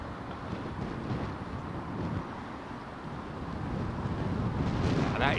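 High wind roars at London Heathrow Airport, a dense, steady rush buffeting the microphone and building slightly toward the end, with no clear voices.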